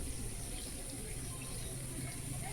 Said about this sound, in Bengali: আর এদিকে গ্রীষ দিচ্ছে গাছে জল, ও গাছে জল দিচ্ছে